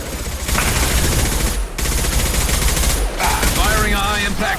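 Dense automatic gunfire and rapid shots rattle almost nonstop in the Mass Effect 2 video game, loud and close, broken by brief pauses, with a faint voice near the end.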